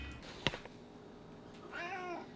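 A pet cat gives a clear drawn-out meow near the end, preceded by a sharp thump as it jumps onto a bed, both close in an otherwise quiet room.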